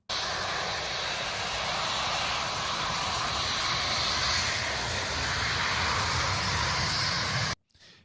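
Aircraft engine in the DCS flight simulator, a steady loud drone with a high constant whine on top, running unbroken for several seconds before cutting off abruptly near the end.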